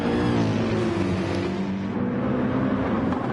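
A Porsche GT race car at Monza during an ERF GT Challenge race, its engine a loud, steady drone with a slightly shifting pitch that fills the whole stretch, with no voices over it.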